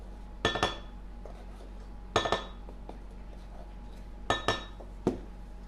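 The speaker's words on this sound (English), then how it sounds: "mix together 3/4 cups of light brown sugar and 3 teaspoons of cinnamon" Spoon clinking against a bowl while light brown sugar and cinnamon are stirred together for a birthday cake, with a few separate bursts of close scraping and taps spaced out over several seconds, no talking.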